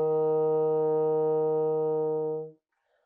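A bassoon sounds a single sustained E flat played with the full fingering, a steady reedy tone held for about two and a half seconds before stopping cleanly, heard alone and close.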